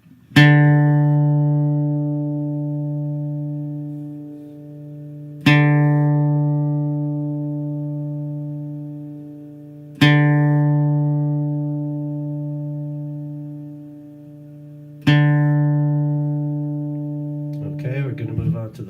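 A single sustained acoustic guitar D string plucked four times as a tuning reference, each note ringing clear and loud, then slowly fading before the next pluck, alone with no talk.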